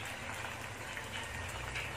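Tofu frying in hot oil for a crispy Cheetos-style snack, giving a steady, dense sizzle and bubbling that runs unbroken and fairly close with no talking.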